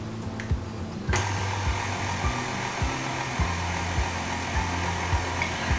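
A stand mixer hums steadily on low speed while mixing chocolate cake batter, with a regular low rhythmic thump of the beater cycling under a constant whirring motor drone, close and loud.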